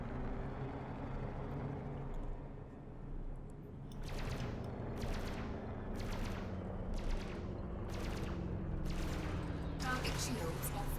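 Rapid weapon fire from a Python ship in Elite: Dangerous space combat, a steady run of sharp bursts repeating about once a second over a constant engine drone, with a voice talking throughout.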